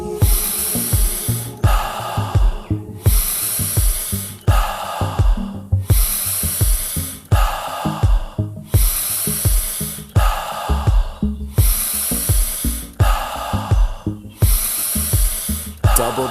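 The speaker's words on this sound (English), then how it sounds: "Alkaline breathing. Good, powerful breaths." Forceful rapid breathing exercise: loud, close, strongly rhythmic breaths repeat about every second and a half, each a powerful hissing push of air, over a steady low pulsing backdrop.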